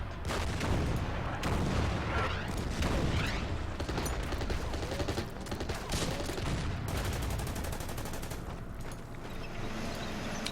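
Heavy bombing and gunfire from the WWII strategy game Order of Battle: dense, continuous bursts of shots and booms keep up a loud, crowded battle din for the full length with no pauses.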